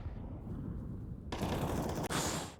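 Bursts of rapid automatic gunfire from a CS:GO match on the Nuke map crack out at moderate level, first muffled and then sharper and brighter, with a short gap near the end.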